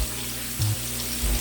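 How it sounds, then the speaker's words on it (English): Tap water running and pouring into a non-stick pan: a steady splashing stream with two brief louder gurgling bursts, close by and alone, without talk. "So you're just gonna put a little bit of water in here, not very much."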